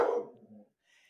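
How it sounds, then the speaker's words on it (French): A dog gives a short muffled bark with a trailing whine, heard from a little distance, alone and brief. "mes chiens sont déchaînés"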